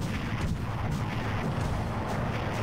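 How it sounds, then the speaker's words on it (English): Dense gunfire and explosions from the Army Men: Sarge's Heroes 2 video game form a continuous, loud barrage of overlapping bangs and rumbling blasts with no pause and no voices. "we're starting off literally guns blazing. Going in with a bang"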